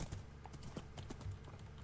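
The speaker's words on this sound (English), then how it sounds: "you may notice that I can ride the horse now without any lag or issues" Hooves clip-clop steadily as a horse is ridden in Minecraft, a quick, even rhythm of soft knocks held at moderate loudness throughout.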